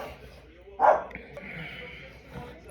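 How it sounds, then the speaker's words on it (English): A single short dog bark pops up near the start, fairly close and brief, over a steady low room hum with faint background noise. "Confirmation from the dog."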